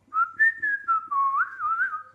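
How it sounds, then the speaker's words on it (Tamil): A single person whistles a short, wavering melodic phrase, close and clear, sliding between notes for about two seconds with nothing else behind it. "ஒரு விசில் அடித்து போடும்"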